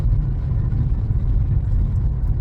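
A car rolls close by as a steady, loud low rumble of engine and tyre noise that holds evenly throughout, with no talking.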